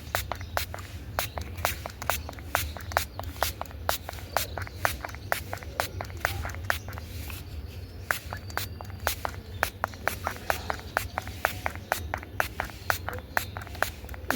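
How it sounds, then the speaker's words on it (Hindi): Plant medicine is sprayed from a hand sprayer onto a fungus-infested plant covered in white insects, giving a long run of short, sharp spritzes in a steady rhythm, close and fairly loud over a low background hum. "इस तरह से आप स्प्रे करके अपने प्लांट को बचा सकते हो।"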